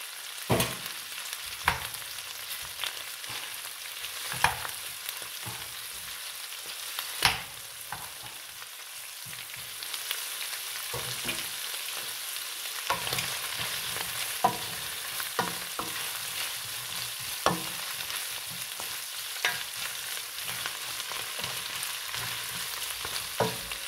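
Leftover lamb lechon frying in a pan, a steady crackling sizzle that runs throughout with scattered spatters and occasional clinks of stirring, close and fairly quiet, no talking.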